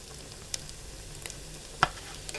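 Oyster mushroom tempura fries in oil at 160 to 180 degrees, giving a quiet, steady sizzle with a few small pops and crackles.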